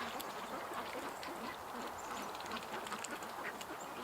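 A duck that could barely walk earlier in the day, kept among a backyard flock, gives repeated quacks close by over steady outdoor background noise.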